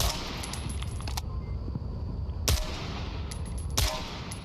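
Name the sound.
automatic weapon firing a whole magazine in video game Onward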